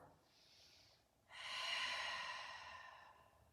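A person takes one big breath while holding a yoga downward dog pose: a softer inhale, then a long, loud, close exhale that gradually fades.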